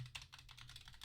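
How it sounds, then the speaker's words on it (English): Rapid keystrokes on a computer keyboard, a steady run of soft clicks at close range with no voices over them. "She's typing the thing."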